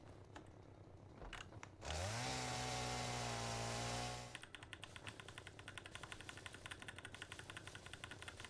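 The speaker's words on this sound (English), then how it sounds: "I love the first time you equip the chainsaw, he has to extend the blade for it" A video game chainsaw in Satisfactory is equipped: a short mechanical clatter, then a loud steady motor drone as the blade extends for about two seconds, cutting off into a rapid, even idling chatter that continues.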